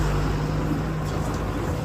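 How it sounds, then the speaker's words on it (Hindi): Army tanks roll past on a road in Ranikhet, a steady, loud, low engine rumble with a persistent hum throughout and no voices. "देखिए आर्मी के टैंक भी जा"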